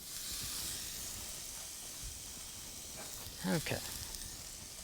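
Peaches sizzle on a grill as a faint, steady hiss across the whole stretch, with a brief spoken word partway through and a few soft bumps over the constant sizzle.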